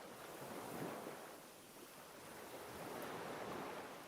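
Waves wash in a video game, a continuous soft roar of surf with gentle swells and a wind-like hiss, faint and steady with no voices.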